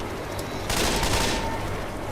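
Machine gun fire in the Left 4 Dead 2 video game erupts partway through as a loud, dense burst of rapid shots over a background of game ambience.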